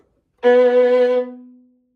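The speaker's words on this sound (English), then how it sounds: "If you were to play a B on your G string in a romantic style forte" A single sustained violin note, a B on the G string played forte in romantic style, is bowed loudly with rich overtones and steady vibrato, then cut off so its resonance fades over a short tail.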